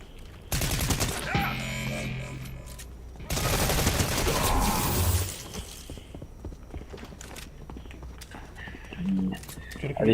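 Bursts of gunfire in Fortnite, two dense loud volleys early on followed by scattered quieter shots, with game sounds and casual talk running through.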